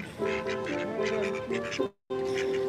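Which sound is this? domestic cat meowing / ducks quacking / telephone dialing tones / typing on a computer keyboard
ducks quacking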